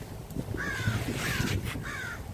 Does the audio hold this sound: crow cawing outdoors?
yes